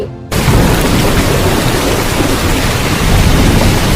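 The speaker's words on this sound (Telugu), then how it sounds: "వర్షం పడుతుంది" Thunder-and-rain sound effect in a student stage drama of the Govardhan story at a Janmashtami performance, beginning abruptly after a short quiet moment as a loud, dense, continuous rushing roar with low rumbling, no talking over it.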